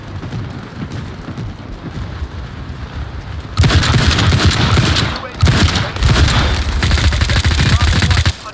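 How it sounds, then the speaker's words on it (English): Dense, rapid gunfire crackles throughout a World War 3 battle, then an enemy airstrike bursts in as a louder wall of booming, rattling fire with brief gaps, all close and intense. "Enemy airstrike fast approaching."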